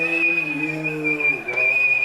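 A referee's whistle sounds during a televised Liverpool versus Brighton football match, one long, shrill, steady blast with a brief dip near the end before it resumes, loud and clear over faint background.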